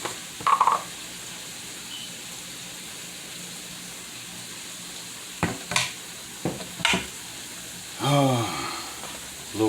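Ground beef and vegetables cook in oil in a pan, a soft continuous sizzle under intermittent utensil scrapes and stirring clatter, with bursts of nearby voices.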